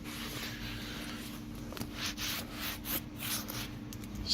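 Steady rubbing of conditioner into dry, worn leather on a car seat, a soft continuous scuffing texture close by with faint rhythmic strokes and no talking.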